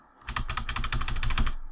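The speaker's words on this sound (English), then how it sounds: "if you can hear my keyboard" Fast typing rattles on a computer keyboard, a dense run of close, quick key clicks lasting over a second, alone and fairly quiet.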